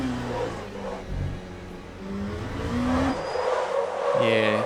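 A Le Mans Ultimate LMP2 race car spins out at Sebring with worn-out tyres, its engine note rising and falling amid squealing tyres and wailing revs, with a commentator's voice running underneath.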